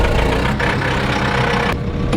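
A farm tractor engine idles steadily up close, a dense low rumble with a constant mechanical drone and no pauses.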